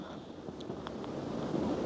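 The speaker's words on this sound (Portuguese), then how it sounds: "o vento tá surreal, que a chuva tá assim, ela tá literalmente na horizontal, de tanto vento que tem" Strong wind batters the microphone with steady broadband roar, driving rain blowing sideways, a few faint brief tonal blips riding over the rushing noise, no voices.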